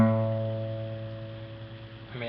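A single open guitar string rings out sustained and clear, capo at the fifth fret, struck once and slowly decaying while its steady harmonics hold; a faint new pluck begins right at the end.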